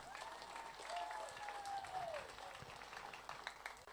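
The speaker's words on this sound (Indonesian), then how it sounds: "Sekali lagi mohon aplaus yang meriah kepada semua calon." An audience at a village head candidates' vision and mission presentation in Tanak Beak applauds the candidates with sustained, faint clapping that sounds distant, while a thin tonal whine drifts over the crowd.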